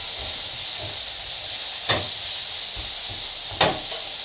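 Beaten eggs for an omelette sizzle in a frying pan, a steady hiss with two sharp louder bursts and light stirring scrapes, heard close with no talking.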